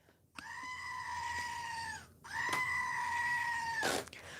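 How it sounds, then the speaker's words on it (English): A goat bleats twice in long, loud, wavering cries, the second stretching to about two seconds and ending in a harsh burst, with no talk over it. "We need the goat. Where's the goat?"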